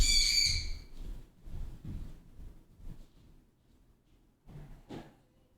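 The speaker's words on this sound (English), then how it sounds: "That freaking bird." A bird squawks outdoors in a few short, sharp bursts, one loud cry at the start and another near the end, with low background rumble between.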